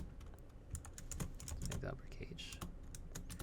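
Typing on a computer keyboard produces a quick, uneven run of close, crisp key clicks, with a person talking quietly over the tapping.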